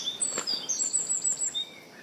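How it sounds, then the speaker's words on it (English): Birds, blackbirds among them, call in a run of high thin whistled notes and chirps, fairly close, over a quiet outdoor background. "Well, those birds are going for it."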